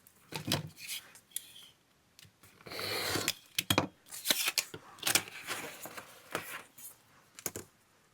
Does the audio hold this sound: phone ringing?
no